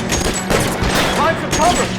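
Gunfire from the video game L.A. Noire, a dense fusillade of shots that runs the whole time, loud and close, with game voices speaking under it.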